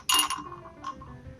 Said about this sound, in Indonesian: Mari kita pindahkan batu yang ada di dalam botol ke dalam gelas.